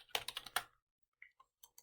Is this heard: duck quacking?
no